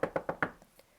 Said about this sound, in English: He passed the door 12 times before he had the courage to go up and knock